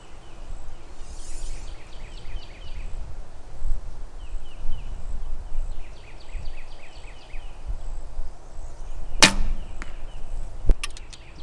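Arrows shot from a Win&Win ATF-DX barebow riser at 30 yards, each release a sharp snap followed by a thud, with two distinct shots near the end over a steady outdoor background hiss and faint bird chirps.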